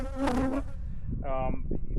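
Bees buzz close by near a hive in a house wall, with two distinct buzzing passes, the first louder and fuller and the second thinner, over a low rumbling background.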